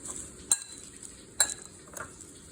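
Ingredients stirred together with a few teaspoons of olive oil, giving soft scraping swirls under three sharp utensil clinks against the bowl at an even, unhurried pace.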